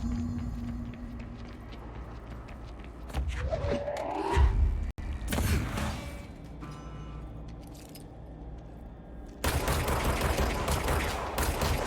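Grenade launchers firing during a fight in the game Control, several sharp bursts and explosive cracks mid-clip, followed by quieter rattling and a dense roar of gunfire near the end.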